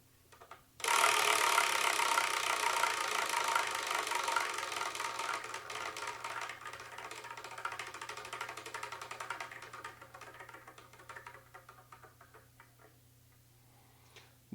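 A selection wheel spun by hand, giving a fast whirring tick that starts abruptly, then gradually slows and fades over many seconds as it winds down.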